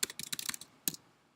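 Quick bursts of keystrokes on a computer keyboard, crisp and close: a rapid run of clicks, a short pause, then a final cluster of taps before quiet.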